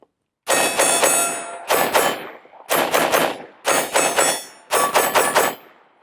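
A Smith & Wesson M&P 5.7 centerfire pistol fired in five quick strings of rapid shots, each burst loud and close with sharp ringing reports, separated by brief pauses.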